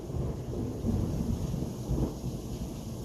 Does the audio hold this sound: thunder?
yes